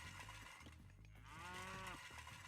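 Cattle low in a video game, several drawn-out moos overlapping amid a dense bed of game sounds and music, heard faintly and at a distance.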